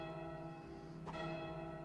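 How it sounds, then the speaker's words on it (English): A church bell struck once inside Goat Simulator 3, a single clear resonant clang around the middle that rings out over a steady sustained game drone. "you'll see some bells. So what we're going to do is ring the center one 3 times."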